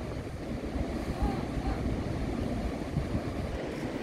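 Sea waves breaking on the beach at Casablanca, Morocco: a continuous broadband wash of surf with wind buffeting the microphone, steady and fairly loud with no distinct pauses.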